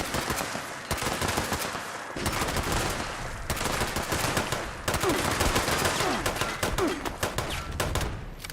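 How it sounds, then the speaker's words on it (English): Bursts of rapid automatic gunfire from the video game Fallout 76 crackle in dense volleys with brief gaps, loud and continuous throughout. "Stop firing while I reload."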